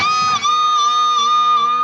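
An electric guitar plays a squealing pinch harmonic on a bent G string, a single sustained high-pitched overtone-rich note with slight wavering vibrato, loud and upfront.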